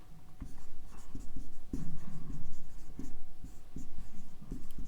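Pen writing on paper during a lesson, a close run of scratchy strokes with short taps and pauses, steady and fairly loud, no talking.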